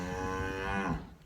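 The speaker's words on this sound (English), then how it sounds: "So I have to put up with their mooing." Cattle in calving pens on a farm give a single long, loud, close moo that fills most of the moment and then fades into quiet.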